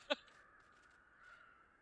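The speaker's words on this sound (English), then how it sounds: "Oh, there's a crow." A single short caw from a crow, sharp and fairly close, followed by quiet background hum and faint distant sounds.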